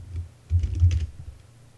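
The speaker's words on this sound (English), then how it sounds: "We'll type in our account we just made." Keys tapped on a computer keyboard while entering account login details, a short close burst of soft clicks that swells for about a second and then fades.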